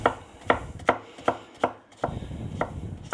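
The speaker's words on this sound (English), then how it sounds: "So I'm cutting up some zucchini, as you can see." A kitchen knife chops zucchini and onion on a cutting board in steady, evenly spaced sharp thuds, about eight strokes, close and clear with no voices.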